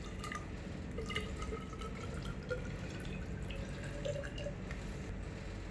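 About 30 units of distilled water poured to rinse leftover glycerol while making hand sanitizer: a steady, close wash of liquid with scattered small drips and splashes running throughout.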